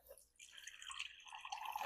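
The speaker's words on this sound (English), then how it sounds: "I'm going to add a little more water" A little water trickling into homemade ramen noodle dough, a faint, close, brief dripping splash with no talk.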